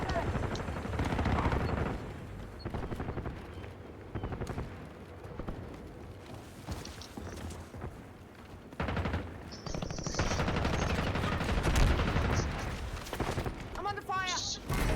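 Video game gunfire crackles in rapid automatic bursts and scattered shots, loud and dense, layered with game effects and occasional voices over the din.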